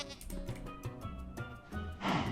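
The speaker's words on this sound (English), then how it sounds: "Goats are now in the game." A Minecraft goat bleats again and again in a busy stream of short, wavering cries, close and fairly even in loudness, with a harsher, brighter call near the end.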